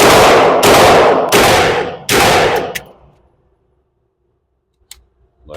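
Four loud, sharp pistol shots from a Glock 19X ring out at an outdoor shooting range, spaced under a second apart, each with a short echoing tail, followed by quiet and faint metallic clicks.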